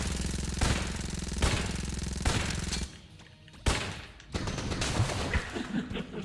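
Gunfire in Enter the Gungeon, sharp repeated game shots in separate bursts, a few loud blasts spaced about a second apart followed by a rapid cluster of shots.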